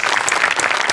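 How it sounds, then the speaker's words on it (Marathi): Loud audience applause at a comedy show, a dense, continuous wall of clapping from a large crowd that holds steady for the full second. "जोरदार टाळ्या."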